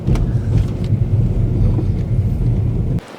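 Car cruising along Route 66 beneath an interstate overpass, with a steady, loud low rumble of engine and road noise and some wind buffeting that cuts off abruptly near the end.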